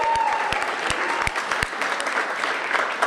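Audience applause for the Howard University Bison at a campus groundbreaking event, a steady wash of clapping from a crowd with sharp individual claps standing out, loud and sustained throughout.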